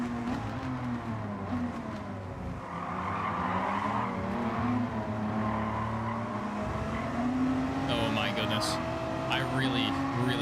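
Hard braking in Gran Turismo 7 makes race car tires skid and squeal over a loud engine drone, with a brief dip then shrill squeals toward the end, while a person talks.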